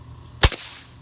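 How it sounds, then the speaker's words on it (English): A single sharp shot from an FX Impact MKII .30 air rifle cracks close by, loud and brief, with a short tail after it and no talk. "The gun sounds better right now."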